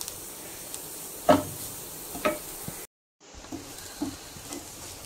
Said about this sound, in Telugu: మసాలాలన్నీ ఆనియన్స్కి పడేలాగా బాగా మిక్స్ చేసుకుందాం